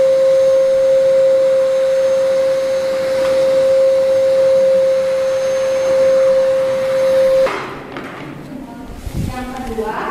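A vacuum cleaner runs steadily for about seven seconds in a plant-tissue-culture growth room, a constant loud whine with a strong tone, then switches off, leaving quieter room noise and faint movement.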